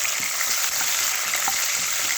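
Whole spices and chopped green chillies frying in hot oil in a pan for paneer bhurji, a steady close sizzle and crackle with occasional soft stirring taps.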